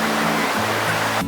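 River water rushing past big stones beside a hiking path at Audra State Park, West Virginia, a steady broadband roar of flowing water, close and continuous with no pauses.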